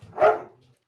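A single short dog bark, close and fairly loud, fading quickly into silence.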